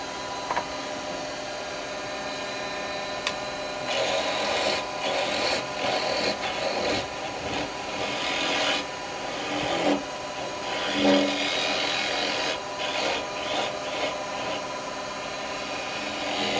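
A live-edge alder wood pot spins on a lathe while being sanded, giving a steady, close rubbing rasp with a low motor hum beneath and rougher bursts in the middle.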